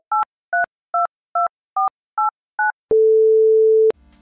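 A telephone keypad dialed, seven short two-tone beeps in an even rhythm, followed by one long steady tone about a second long, loud and clean with nothing else behind it.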